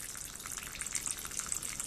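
Water runs steadily into a bowl being prepared for a Simani, a continuous close splashing hiss with no talking.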